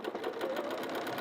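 A sewing machine, fitted with a walking foot, runs steadily as it stitches a line, a close, even mechanical whir with a rapid needle rhythm and no talk over it.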